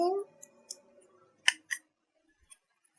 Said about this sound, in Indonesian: Nah, kalau sudah diukur, kita bisa gunting